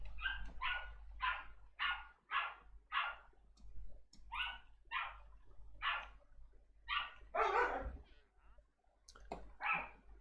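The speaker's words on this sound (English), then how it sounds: "the other dog's getting mad at the one dog for barking continuously" Dogs in a Modded Minecraft game barking over and over, a steady run of sharp barks with brief pauses, loud and close, with no talking.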